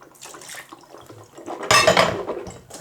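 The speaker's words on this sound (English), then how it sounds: "Hands are a little bit sticky, so I'm gonna just rinse them off" Sticky hands rinsed under a running bathroom tap, a short burst of close splashing water with light clinks, building in the second half.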